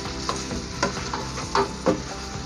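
Chicken curry gets stirred in a frying pan, a continuous sizzle overlaid by repeated scraping strokes of a spoon roughly every half second, close and moderately loud, with no speech.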